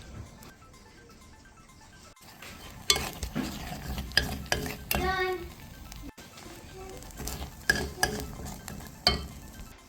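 An egg is cracked into the last of the melted fondue cheese in the pot and stirred, giving scraping and clinking spoon strokes over a soft sizzle, with bursts of voices and kitchen clatter mixed in.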